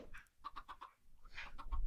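Chickens in the video game Minecraft cluck in short repeated bursts, two clusters of quick rhythmic clucks at modest volume with brief gaps between them and no talking.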